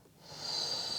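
Steady breathing held through a yoga pose, a quiet hiss that starts faint and swells into a sustained, close exhale without any talking.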